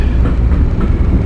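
Amtrak Acela Express train rolling on rails during a speed test, a loud steady low rumble and rush of wheels from on board, with a faint rhythmic clatter and no voices.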